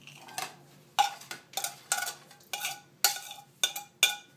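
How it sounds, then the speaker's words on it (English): Chopped tomato bruschetta ingredients are stirred together in a bowl, making about eight close, rhythmic scraping and clattering strokes with short pauses between them. No voices are heard. "Now we mix all the ingredients together."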